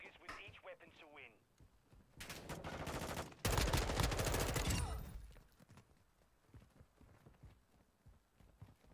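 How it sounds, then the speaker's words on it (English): Rapid automatic gunfire from a video game gun game match bursts out in loud dense volleys for a couple of seconds, with scattered shots and game sounds before and after. "Gun game. Eliminate targets with each weapon to win."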